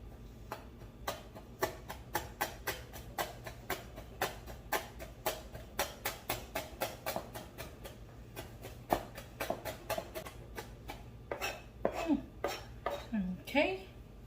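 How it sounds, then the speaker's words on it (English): A knife chops cilantro roots on a cutting board in a long series of sharp, evenly spaced taps, steady at first and then quicker and more irregular toward the end, with some faint clattering. "I'm gonna chop our cilantro roots."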